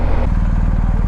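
A BMW GSA 1250 motorcycle engine runs with a close, loud, steady low rumble and a rapid pulsing beat.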